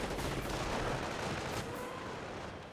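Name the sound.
Nebelwerfer rocket barrage firing in Company of Heroes video game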